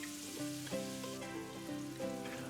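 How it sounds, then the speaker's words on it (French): Scallops searing in hot brown salted butter, a soft continuous crackling sizzle, close and fairly quiet, with no voices over it. "Les Saint-Jacques, il faut bien les saisir, bien vifs pour bien les colorer à l'extérieur"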